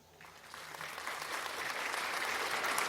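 Sustained applause from a crowd rises steadily and fills the clip, played as a sound effect on a podcast, dense and continuous with no voices over it.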